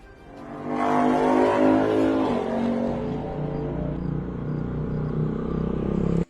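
An auto rickshaw engine runs loudly and steadily close by, its rumble swelling up after a quiet start and holding for several seconds before stopping abruptly.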